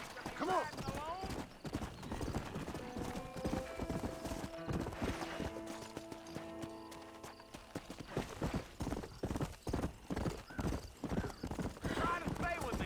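Horse hooves clip-clopping at a steady riding pace in Red Dead Redemption, with an occasional whinny, heard under game music and character dialogue.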